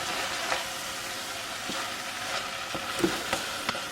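Spoon stirring cream cheese into a pot of cauliflower mac and cheese over steady sizzling, with soft scraping clicks every so often, close and alone.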